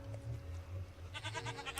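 A pet goat named Gary bleats in a Minecraft zoo modpack, several soft, quiet bleats over a low hum, with a brighter, buzzier call near the end.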